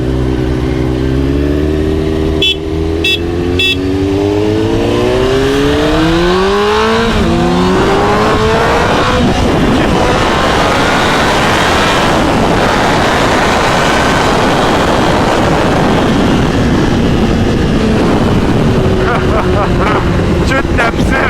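Honda CBR 954RR sportbike accelerating hard, loud and close, its engine climbing through rising revs in first gear before a roaring sustained pull, with people talking over it.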